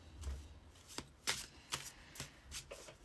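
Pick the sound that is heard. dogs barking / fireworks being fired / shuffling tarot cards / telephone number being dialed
shuffling tarot cards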